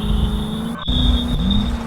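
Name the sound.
car engine revving as it drives off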